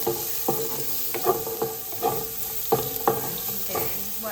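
Carrots stir-fried in a pan for beef lo mein: a steady sizzle with repeated scraping, tossing strokes of a utensil at an irregular rhythm, close and moderately loud.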